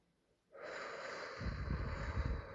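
A meditator lets out a long, steady breath, an airy rush that starts abruptly and continues evenly, close to the microphone and alone.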